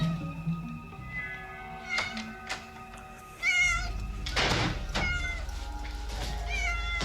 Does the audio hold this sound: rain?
no